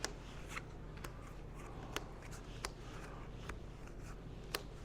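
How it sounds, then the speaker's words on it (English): Playing cards dealt into face-down and face-up solitaire piles for a multi-handed solitaire game, giving soft, quiet snaps and slaps at irregular intervals, close by, with no talking. "I continue making the piles with cards face down"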